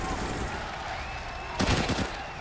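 AWP sniper rifle fire during a Counter-Strike grand final match, a sudden loud broadband burst arriving late, over a steady bed of crowd and arena noise.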